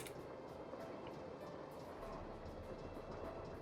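An old train running on its tracks in the Nancy Drew video game, a steady low rumble with faint rhythmic clatter, continuous and fairly quiet with no voices.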